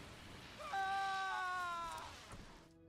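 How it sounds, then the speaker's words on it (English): A tortured character in the Star Wars: The Old Republic video game lets out a single drawn-out, wavering cry of pain at moderate volume over a faint background hiss. "Scream, weakling. I want to hear your suffering."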